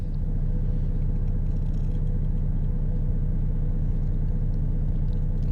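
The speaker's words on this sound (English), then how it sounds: "We'll leave the truck running while we do that." A truck engine idles in American Truck Simulator during a Missouri trucking event, a steady, close low rumble running unbroken throughout with no talking over it.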